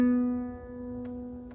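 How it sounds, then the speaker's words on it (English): A single acoustic guitar B string rings out as a sustained tuning reference note, clear and alone, gradually decaying with light background noise. "on the B string, you need your tuner or piano for this, and make sure your B string sounds like this"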